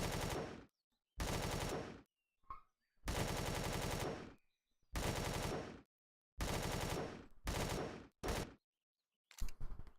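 Bursts of automatic gunfire in Empyrion Galactic Survival as animals are shot, coming in about eight loud, sustained volleys separated by short silences, with no talking.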